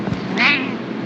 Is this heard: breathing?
no